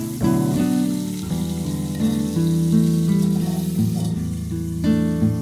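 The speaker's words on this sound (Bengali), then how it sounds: "এদিকে মাছ ভাজা হচ্ছে" Snakehead (shol) fish fries in oil in a kadai, a continuous moderate sizzle heard beneath prominent melodic music.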